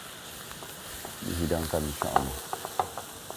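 Vegetables, green beans and carrots among them, being stirred in a hot frying pan, sizzling steadily with scraping knocks of the spatula, while someone speaks briefly over the cooking.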